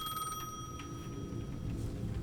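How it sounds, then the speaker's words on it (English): A payphone at the edge of a plaza rings in the video game Alan Wake 2, its bright electronic bell pulsing in repeated bursts over a low, murky ambient rumble. "Telefon!"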